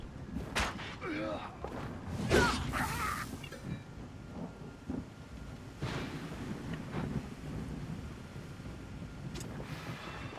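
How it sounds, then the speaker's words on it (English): Lightning strikes and rolling thunder in the video game Wartales, with broad rumbling bursts near the start and again midway over a steady stormy wind-and-rain bed. "That's dangerously close to get hit by lightning."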